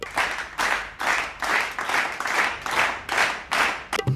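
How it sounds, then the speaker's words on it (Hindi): Rhythmic applause: roughly eight evenly spaced bursts of clapping, loud and close, repeating about every half second. "ताली बजाते हैं ये।"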